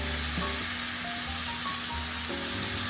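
London broil beef sizzling on a grill heated to 400–450 degrees, a loud, constant close crackling hiss with a low hum beneath and no voices.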